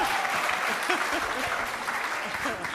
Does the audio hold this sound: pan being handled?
no